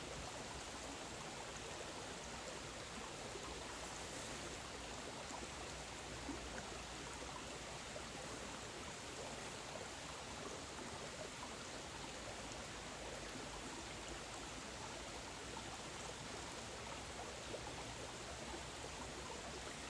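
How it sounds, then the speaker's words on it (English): A babbling brook, called a burn locally, flows steadily through woodland, its continuous close rushing and trickling water filling the scene without pause and with no voices. "now that's a babbling brook"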